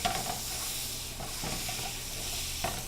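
Butter melts and sizzles in a pan over medium heat, a continuous soft hiss and crackle with a few light scraping stirs, close by and steady, no voices.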